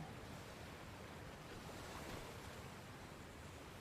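Steady rushing water from a river in a video game, a broad, even wash of flowing sound with no talk over it, fairly quiet throughout.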